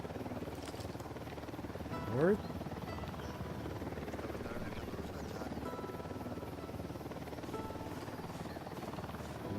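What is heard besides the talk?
helicopter flying in the video game Ghost Recon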